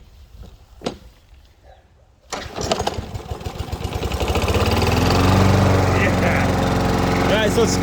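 A Ryobi 40V battery lawn mower starts with a brief whir, then spins up to a loud, steady running drone close by, after a few quiet moments with a faint knock.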